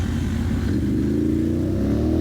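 An off-road racing vehicle's engine runs loud and close, a dense steady drone that climbs gently in pitch as it revs, continuous throughout without any talking.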